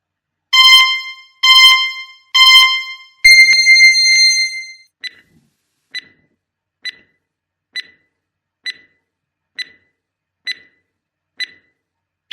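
A timer goes off with three loud harmonic beeps, then a longer sustained tone, followed by a run of short, evenly spaced clicks or ticks, all clear and close with no talking.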